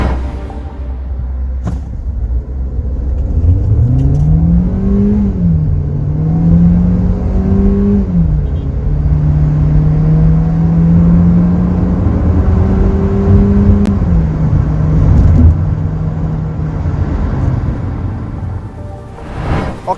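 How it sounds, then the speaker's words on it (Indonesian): A 2022 KIA Carens accelerates hard during an acceleration test, with the engine note climbing, dipping briefly at gear changes and climbing again, loud and close, with a droning rumble and road noise throughout. "Gue juga penasaran deh sama akselerasinya."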